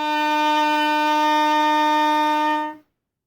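A B-flat trumpet holds a single sustained concert E-flat note, steady and clear for nearly three seconds, then cuts off cleanly into silence.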